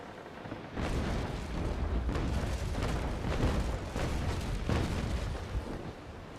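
A ship's cannon fires into an enemy deck during a naval battle in the game Naval Action. A heavy, sustained roaring boom swells in and rumbles on for several seconds at a loud level, with no talking.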